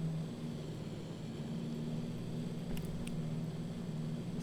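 Twin-engine DC-3 propeller airliner on final approach with full flaps, heard in the Prepar3D flight simulator: a steady, continuous engine drone with a low hum, running evenly throughout with no talk.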